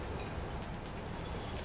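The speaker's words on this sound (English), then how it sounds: "Watch, the train's gonna come down that hill," A train in the factory-building game Satisfactory rolls closer down a hill, a dense low rumble of wheels and engine that stays loud and steady throughout the short clip.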